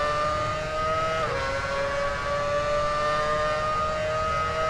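A Honda Formula One car engine in the F1 Championship Edition racing game screams at high, steady revs, with a brief dip in pitch as it shifts. The whine holds constant and loud for the whole stretch with no talking.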